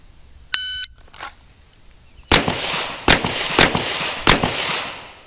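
A shot timer beeps once, then a police revolver fires four loud, sharp shots on a qualification range, spaced unevenly within a few seconds.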